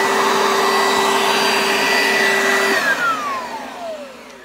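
An Oreck XL upright vacuum cleaner, an older refurbished model, runs steadily with a loud motor whine, then powers down, its pitch sliding lower as it winds off near the end.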